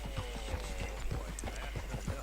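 Horse hooves clip-clop at a steady walking pace in the video game Red Dead Redemption 2, an even run of soft thuds under a low ambient hum with faint overlapping voices.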